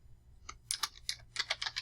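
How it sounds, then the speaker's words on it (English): Quick bursts of typing on a computer keyboard, about a dozen crisp keystrokes in irregular clusters, close and fairly quiet, with no voices. "be very careful with your typing here"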